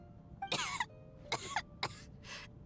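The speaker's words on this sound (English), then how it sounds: "How long have you had that cough, Tonya?" A character coughs in Genshin Impact, four sharp coughs in uneven succession, fairly close and clear, over a quiet background hum.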